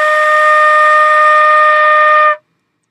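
A single sustained flute note D, fingered with no left pointer finger and no right pinky, held steadily and alone for about two and a half seconds before stopping cleanly.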